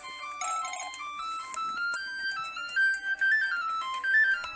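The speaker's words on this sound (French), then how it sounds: "Ah, téléphone." Telephone in the video game Nexomon rings with a bright, beeping electronic melody of quick repeating notes, played loud and close with no voices.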